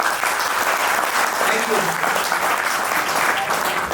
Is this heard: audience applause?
yes